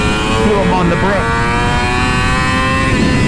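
Yamaha YZF-R6 sport motorcycle on a race track, its engine held high in the revs with a rising and falling howl, loud and steady throughout, with a voice talking over it.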